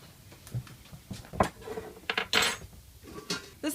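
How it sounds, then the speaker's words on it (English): A metal strainer is set up in a home kitchen while herbal shampoo simmers, making a few scattered clanks, taps and scrapes of metal against pots and utensils, close and moderately loud with quiet gaps between. "While that's simmering, I'm going to set up my strainer"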